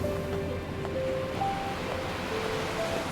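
Rolling ocean waves wash steadily around a ship drifting on the wind in NieR Re[in]carnation, a continuous surf-like rush layered with sustained musical tones, no voices.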